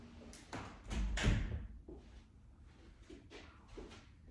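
An indoor door swings shut with a solid, muffled thud during a quiet yoga session, preceded by a few light taps and followed by soft scattered knocks and handling noises at low volume.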